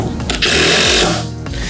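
A Dewalt DCF850 Atomic cordless impact driver sinks a 7 cm screw, a loud close whirring hammer-buzz that rises sharply for about a second, then winds down and stops.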